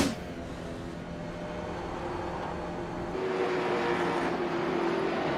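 Onboard a late model stock car on an asphalt track, the engine drones steadily from inside the cockpit, a sustained mechanical hum that swells slightly louder midway through.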